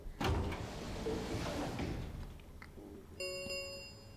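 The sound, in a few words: warehouse doors rumbling as they slide shut, from video game Virtue's Last Reward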